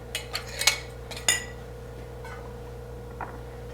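Metal canning lids clink lightly onto glass jars of meatballs being readied for pressure canning, a few quick separate taps close by over a steady background hum.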